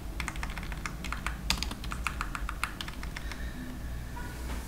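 Typing on a computer keyboard in a Word document: a fairly quick, irregular run of sharp key clicks over a low background hum, close and clear, with no voices.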